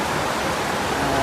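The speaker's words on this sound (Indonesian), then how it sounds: "Ini banjir, ini longsor ini, banjir." Floodwater from an overflowing river beside a landslide, rushing as a steady, loud, broadband roar with no breaks.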